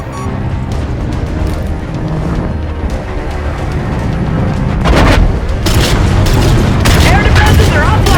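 Missile explosions in the video game Call of Duty: Infinite Warfare, a heavy rumbling boom that builds and then breaks into loud clustered blasts and bangs, with voices talking over the din.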